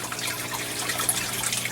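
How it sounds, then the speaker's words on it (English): Water pours steadily from a pipe fitted with a ball valve in an aquaponic greenhouse, a continuous close splashing trickle with no pauses. "I've got water coming out the corner with a ball valve to control the flow"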